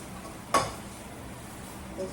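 Shrimp fried rice with peas, carrots and onion is tossed in oil in a pan, giving one sharp scrape and clatter of stirring over a soft, steady sizzle, then a faint second knock.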